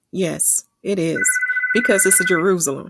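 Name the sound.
phone ringing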